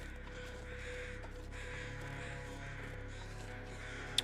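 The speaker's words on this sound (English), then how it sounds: "There's a lot of birds." Crows caw in the snowy wilderness of The Long Dark survival game, a few harsh calls faint behind a steady low ambient hum and wind, with one brief sharp click near the end.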